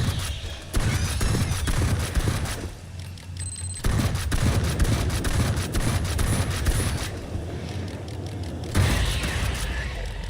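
An automated sentry gun in a solo shooter game fires long sustained bursts of rapid, loud gunfire, with brief pauses between volleys and mechanical clatter underneath.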